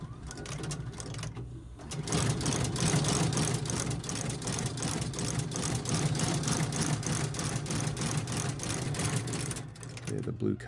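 A sewing machine stitches a western boot with blue thread, its rapid steady needle chatter running continuously for several seconds, starting and stopping cleanly, close and fairly loud.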